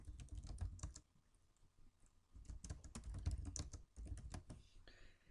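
Close, quiet keystrokes on a computer keyboard come in two quick bursts of steady typing, separated by a short pause.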